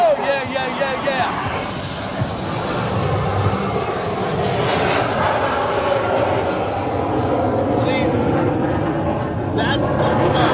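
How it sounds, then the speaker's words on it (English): F-16 fighter jet making a slow pass at an air show, a loud sustained engine roar over crowd noise with people talking nearby throughout. "Slow pass of the F-16."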